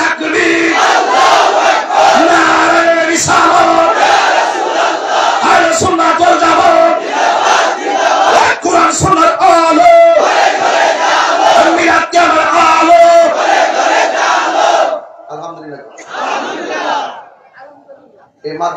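At a Bengali Islamic sermon, a large crowd answers a takbir call with loud, sustained massed chanting and shouting that fills the space, then breaks off into quieter scattered voices near the end.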